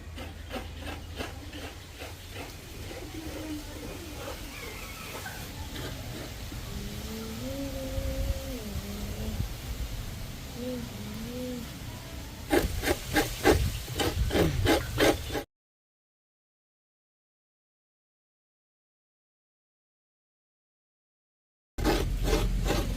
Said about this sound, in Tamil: சரி இப்போ தேங்காய் திருவோம்.